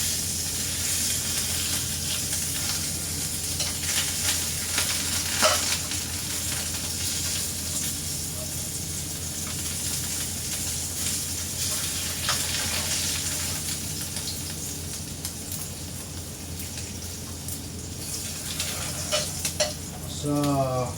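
Dried fish (tuyo) frying in a pan: a steady, dense sizzle and crackle of hot oil runs throughout, with occasional light clinks and scrapes of a utensil against the pan.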